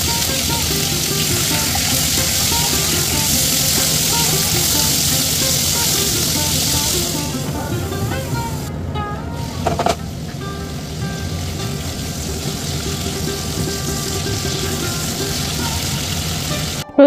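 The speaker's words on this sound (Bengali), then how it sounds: "এরপর আরও 50 মিলিলিটার মতো তেল দিয়ে আমি দিয়ে দিলাম 4-5টা কাঁচা লঙ্কা।" Four or five green chillies spitting and sizzling in about 50 ml of hot oil, a steady loud frying hiss throughout with a brief clatter partway through, the tempering for a Bengali vegetable curry of drumstick stalks.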